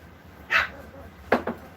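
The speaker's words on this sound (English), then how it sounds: "There's 7 8-week-old Maltese puppies playing in their play area" Eight-week-old Maltese puppies at play in their pen give a few short, high yips and barks, one alone and then a quick pair, close by and fairly loud over a quiet room.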